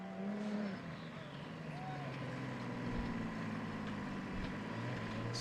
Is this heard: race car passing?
yes